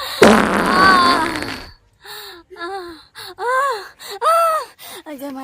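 A loud, raspy fart in a Maithili comedy sketch, one sustained blast lasting over a second, followed by strained groaning vocal sounds.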